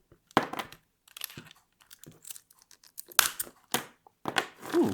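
Mosaic cutting tool snipping Johnson ceramic tile, a series of sharp crunching snaps and crackles in uneven bursts, close and fairly quiet, separated by short silences.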